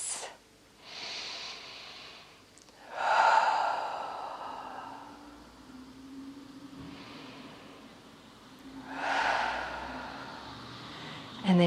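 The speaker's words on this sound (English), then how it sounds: "Take 2 deep breaths" Slow, deep breaths during a yoga session: two long, audible inhale-exhale cycles with soft airy sighs, close and fairly loud, no talking.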